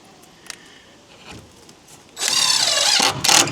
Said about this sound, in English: we have to pre-drill these holes like this because they can split if you just try and screw screws into them